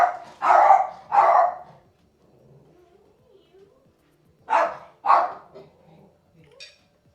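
A pet dog at home barks in two pairs of loud, sharp woofs separated by a pause, with faint whimpers and small noises between them.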